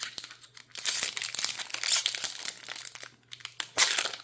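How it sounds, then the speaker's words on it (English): A foil booster pack of AFR trading cards is torn open up close, giving loud crinkling and ripping bursts in several quick pulls with no voices. "how easy it is to open an AFR pack"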